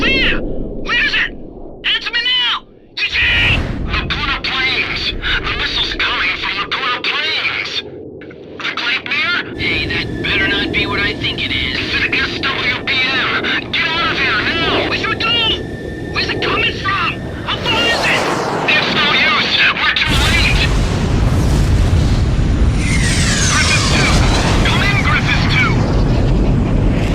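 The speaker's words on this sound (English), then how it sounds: "Something's coming in at high speed. It's a missile!" Missile strike in the Ace Combat X video game: a dense, loud roar of engine and rushing noise under urgent radio-style voices, ending in a heavy explosion that fills the last seconds.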